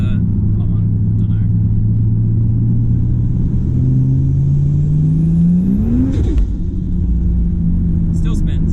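A big-turbo Ford Falcon XR6 accelerating in third gear, its engine pitch climbing steadily through a loud, close rumble and turbo whine before dropping sharply at the shift, with a person talking over it.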